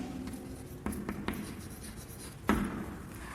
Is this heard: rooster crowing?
no